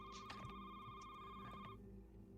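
A phone rings with a steady electronic tone for about two seconds, fairly quiet and somewhat distant, over a low background hum, and then stops.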